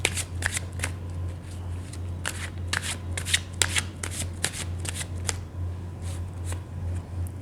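Tarot cards being shuffled by hand, a run of crisp riffling bursts and soft slides repeating unevenly at close range over a low steady hum, with no speech.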